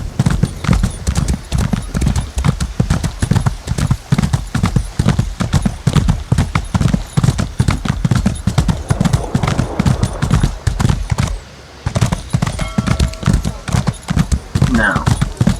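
Clopping hoofbeats of a war turtle mount in Elder Scrolls Online, a steady rapid rhythm of heavy footfalls that carries on almost throughout, pausing briefly near the end, with faint game effects behind.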